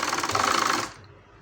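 A sewing machine runs steadily for under a second, stitching piping onto a blue blouse, with a rapid, even mechanical chatter that cuts off abruptly and leaves faint room noise.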